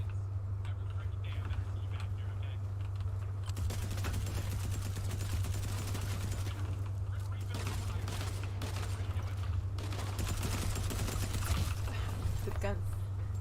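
Rapid bursts of gunfire in the video game Fortnite crackle in steady volleys through most of the stretch, with a constant low hum beneath and brief talk mixed in.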